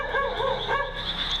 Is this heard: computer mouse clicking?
no